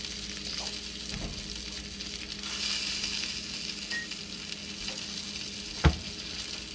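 A cheesy Chicago-style deep dish pizza in a cast iron pan sizzles fresh from the oven, a steady close crackle of bubbling fat with a few small pops and one sharper tap near the end.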